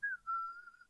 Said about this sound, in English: whistles and pretends to be taking her dog for a walk